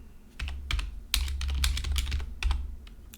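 C++ code is typed on a computer keyboard in short bursts of close, crisp keystrokes with brief pauses between clusters.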